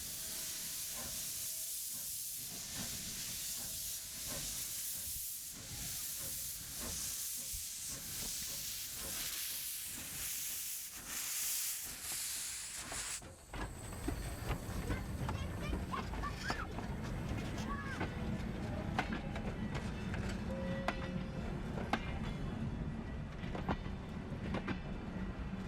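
A steam train hisses loudly at first, then runs with a steady rumble and rhythmic clickety-clack on a heritage railway line, continuous and fairly close throughout.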